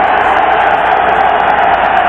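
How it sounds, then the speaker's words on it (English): A football stadium crowd at a 1999 NFL night game, Denver Broncos at New England, roars steadily in a dense, unbroken wall of cheering with no gaps over the full stretch. "Willie McGinnis trying to urge the crowd to respond with cheers"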